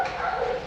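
A dog at an animal adoption shelter gives a brief, close yelping bark or whine, a single short burst with no talk over it.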